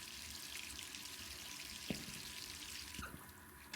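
Running tap in the video game Resident Evil 3, a faint continuous hiss of flowing water with a couple of small knocks, quiet and unbroken.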